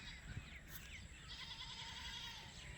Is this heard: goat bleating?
yes